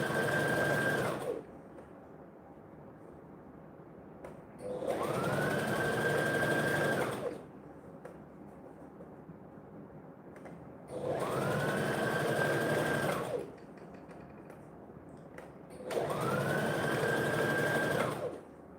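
An electric sewing machine stitches a tutu in four loud, steady bursts of rapid whirring and needle hammering, each lasting a few seconds and separated by quiet pauses.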